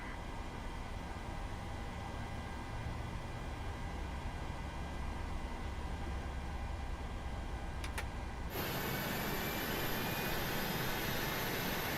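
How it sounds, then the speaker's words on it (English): Engine 1 of a PMDG 737-800 spooling up in Microsoft Flight Simulator, a steady airy roar with a whining tone that jumps to a brighter, louder hiss partway through, with no talk. "let's start up engine number 1"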